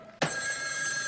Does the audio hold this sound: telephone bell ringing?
yes